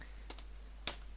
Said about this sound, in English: if you notice me typing like really weird or missing some characters or anything like that